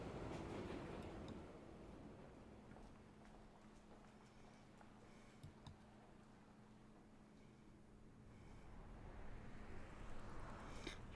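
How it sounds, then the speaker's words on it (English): A train rolls along rails in a quiet city, a soft low rumble with faint clicks of wheels on track joints, swelling slightly at the start and end. "Train arrives at Soya Station."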